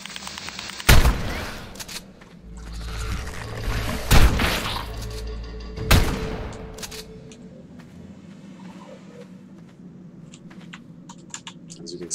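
Three sharp, loud shotgun blasts at steady spacing, fired at dinosaurs in a cave-exploring survival video game, each ringing out over a continuous rumbling backdrop of game ambience and faint clicking.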